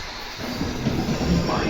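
A London Underground train stands at the platform, with a steady broad rumble and hiss of motors and ventilation that swells slightly, and muffled station noise around it.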